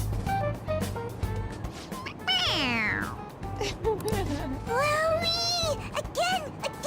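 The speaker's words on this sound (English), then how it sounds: "It meows when you press on its head." A toy cat gives several electronic meows as its head is pressed, rising and falling squeaky cries repeated close by over a busy background, with people talking faintly in between.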